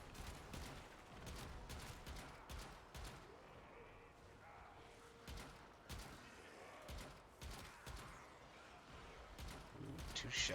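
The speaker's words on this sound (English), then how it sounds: "2 shots with a zenith" Rapid gunfire from a Zenith weapon in Warframe, a quick series of faint cracking shots heard at a distance beneath game ambience and low murmuring voices.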